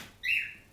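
A single short bird chirp rings out outdoors, a bright, brief call rising out of quiet background.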